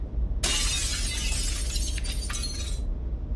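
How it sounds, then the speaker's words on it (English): A mirror shatters in one sudden, loud burst of breaking glass, then bright shards keep crashing and tinkling for about two seconds before cutting off, with no one speaking. "The mirror shattered."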